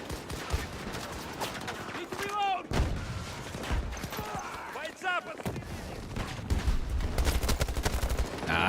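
Rapid bursts of gunfire from a weapon in Battlefield 2042 crack and rattle in quick succession, loud and close, broken by short gaps and mixed with game effects and a voice talking over it.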